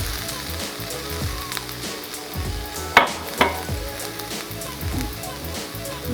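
Mixed vegetables and white rice with soy sauce fry in a pan for Jamaican vegetable fried rice, a loud close sizzle with stirring scrapes and two sharp clatters midway.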